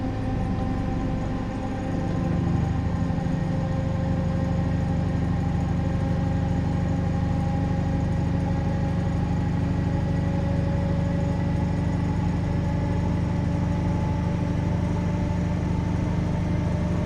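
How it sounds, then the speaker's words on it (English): HST diesel train with a VP185 engine accelerating at full power in Train Simulator 2017, a loud steady low drone with rising harmonic tones that swells after a couple of seconds and holds strongly throughout. "So I can now go into full power and start accelerating up towards line speed"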